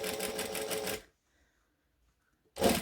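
A sewing machine stitches along the edge of a bag pocket, a close rapid mechanical rattle for about a second, a pause of near silence, then another burst of stitching.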